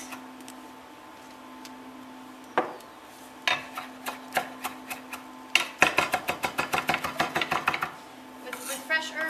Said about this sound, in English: I'm just going to rough chop my parsley